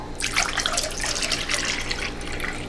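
Melted sunflower wax poured into molds, a soft continuous liquid trickle and splash lasting a few seconds, close and fairly quiet.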